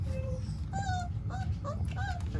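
Dogo Argentino puppies whimper and yip at feeding time, several high, wavering whines overlapping in short bursts, close by over a steady low background hum.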